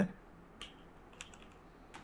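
Keys tapped on a computer keyboard during a PHP coding lesson, a few soft isolated clicks spaced apart at low level in a quiet room.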